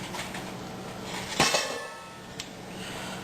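Butter dropped into a pot while its wrapper is pulled off, a few close clinks and knocks of metal cookware against a steady background hiss, with no voices.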